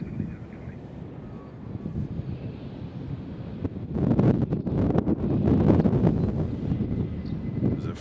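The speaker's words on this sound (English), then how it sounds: "you can still hear the wind" Gusty wind buffets a microphone outdoors at Nashville International Airport, a low roaring rumble that swells and surges in bursts, growing louder midway and staying strong, with no talk.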